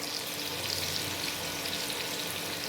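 Cauliflower sizzles steadily in a pan seasoned with salt and turmeric, a close, even frying hiss with light stirring and no voices.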